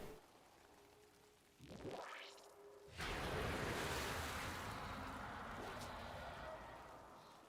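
Water pool in a video game that sucks enemies under, giving a rising whoosh followed by a loud, sustained rushing, surf-like wash that slowly fades.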